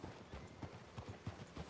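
Horse hooves clip-clopping at an easy walking pace in Red Dead Redemption 2, a steady run of quiet, distinct thuds on a town street, faint and without talk.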